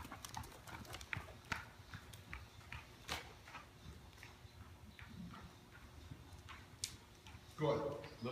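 A horse trots forward under a rider, its hooves making faint, regular clip-clops in an arena, with scattered knocks and a brief burst of noise near the end.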